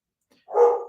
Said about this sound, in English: What's going on with these dogs?